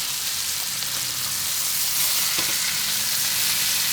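Steaks frying in butter with garlic in a hot pan give a steady, loud, close sizzle that holds evenly throughout with no talking.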